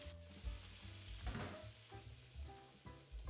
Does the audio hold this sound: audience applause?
no